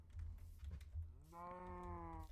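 Cattle in a farming video game moo once, a long, clear, drawn-out call rising out of a low rumbling background bustle.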